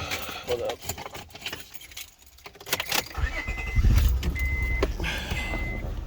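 A car's engine cranks and starts up after some handling noise and a jangle of keys, then settles into a steady low idle heard up close, with a person speaking nearby.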